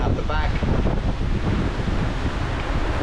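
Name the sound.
strong wind and big ocean waves on sailing catamaran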